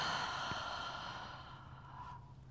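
A single long yoga exhale: a soft, breathy sigh that starts fairly strong and slowly fades out, close by and alone.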